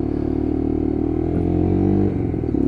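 A Lexmoto LXR 125cc Euro 5 motorcycle being ridden, its engine droning steadily close to the microphone with a slight rise in pitch as it accelerates, with no talk.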